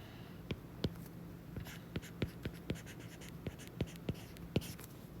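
A pen or highlighter scratches and taps on paper with short, quick, irregular strokes, each one close and clear against a quiet background.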